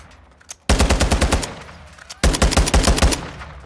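Battle rifle in Call of Duty: Modern Warfare II fired in single fire mode, two loud bursts of rapid, evenly spaced shots in quick succession, each string lasting about a second with a brief pause between.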